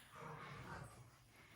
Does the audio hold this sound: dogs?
yes